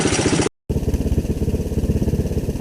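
A Kawasaki Bayou 300 ATV engine idles with a rapid, even chugging pulse, close and loud, briefly cut off near the start before resuming steadily.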